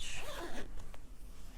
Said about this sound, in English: I'm just going to go ahead and zip this